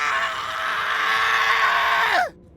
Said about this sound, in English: The first scream came 20 minutes later.